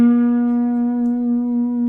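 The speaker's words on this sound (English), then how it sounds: "If I was to put the slide in the same place that I would finger for that note, it would sound like this" A single sustained slide guitar note on the G string, sounding slightly flat, ringing clear and steady with gentle vibrato for about two seconds, no talking.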